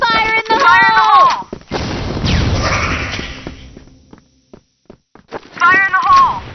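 A grenade explosion in a video game bursts as a loud, broad boom that rumbles and fades over about two seconds, between short game voice callouts before and after.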